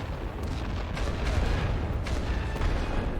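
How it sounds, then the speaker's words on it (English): Heavy artillery fire pounding a position in The Great War: Western Front, a steady low rumble of distant shell bursts with a few sharper cracks rising above the din. "I wonder how hitting this with heavy artillery is going to go"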